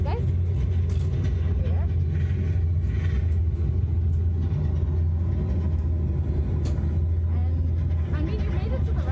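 Reverse thrust after an airliner touchdown in a flight simulator game: a constant heavy low rumble throughout, with people talking over it.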